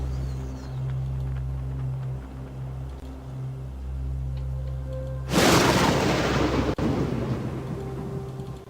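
Thunder in the horror video game Harvester, a sudden loud rolling crash breaking over quiet ambient game music and continuing as a rumbling roar.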